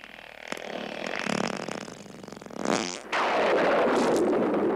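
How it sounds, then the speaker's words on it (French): A long, loud, rasping flatulence sound effect, stretched and varying in pitch, ending in a sustained buzzy blast. "Les proutes, quoi."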